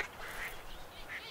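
Ducks quacking in the Duck Dynasty hunting video game, a few faint, scattered calls over a steady hiss of background noise.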